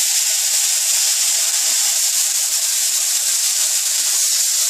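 Rava dosa batter sizzles loudly on a hot oiled pan with onions, a steady dense hiss holding at the same level throughout with no pauses.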